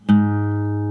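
A single guitar string tuned a half step down to A flat is plucked once, ringing clearly and sustaining evenly for under a second with no other sound.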